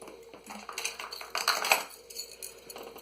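Small metal spoon fishing lures from a tackle bag clink and rattle as they are handled, with scattered light metallic taps building to a busier jingle midway, then thinning out.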